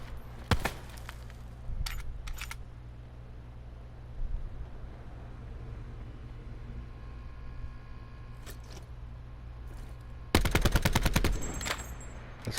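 Gunfire in the Black Ops 4 video game, with short automatic bursts and single shots spread across the clip, ending in a longer rapid burst, over a low steady background hum.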